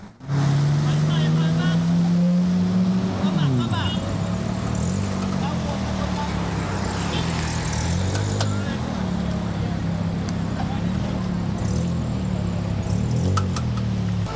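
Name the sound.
cars driving through heavy, murky floodwaters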